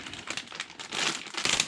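A plastic bag crinkles and rustles in short, irregular bursts while an RC plane, a Dynam Tucano warbird, is unboxed, close and fairly quiet with no talk.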